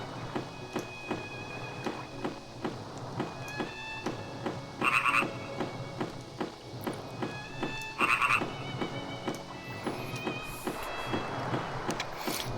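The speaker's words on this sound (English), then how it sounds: "the frogs won't shut up" Frogs croak in a steady rhythmic chorus in the Sega Saturn role-playing game Grandia, with a few louder bursts of croaking and occasional chimes over a low game ambience. No one speaks.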